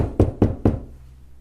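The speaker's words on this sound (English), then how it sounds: "There is a knock at your shipping container door." Three firm, evenly spaced knocks land on a shipping container door, each a deep, hollow thud with a short ring, followed by a faint low hum.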